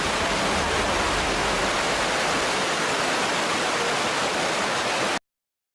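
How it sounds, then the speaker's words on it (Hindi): A flood's water surges in a loud, steady roar of rushing waves, a dense broadband wash that holds unbroken for about five seconds before cutting off abruptly. "लहरों का शोर इस कदर भयानक था कि कोई उन्हें पार करने की हिम्मत नहीं जुटा सका"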